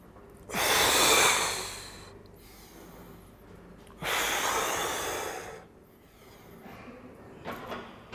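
Heavy breathing from a person lifting weights during a beginner workout, with two long, loud breathy exhales and a fainter, shorter breath near the end, no talking.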